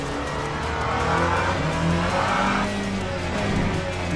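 Hypercar tyres squeal and scrub continuously in a racing video game, a loud steady engine drone under a wavering screech, with no talk.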